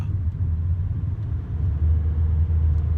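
Steady low rumble inside a moving car, a continuous road and engine drone with slight swells in loudness and no talking.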